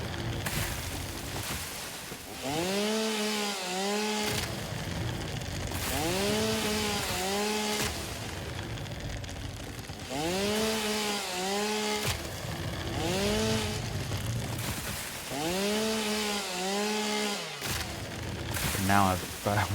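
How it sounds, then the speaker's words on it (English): In the video game Satisfactory, a chainsaw revs in repeated buzzing bursts as it cuts down trees two at a time, under a steady mechanical background with pauses between strokes. "the chainsaw is able to chop down 2 trees in one swipe"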